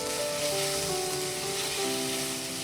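Garlic and green chilies frying in a pan, a dense continuous sizzle heard close up, steady in level with a faint tonal hum underneath, no speech.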